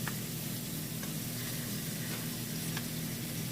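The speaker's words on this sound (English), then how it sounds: "we're gonna drop in the cabbage right on top of the butter" Cabbage dropped onto melted butter in a pot sizzles in a soft, steady hiss with a few faint clicks of stirring, fairly quiet and continuous.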